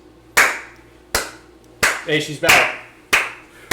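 Five sharp, loud hand claps land at roughly even intervals about a second apart, close by, with a voice speaking briefly between them.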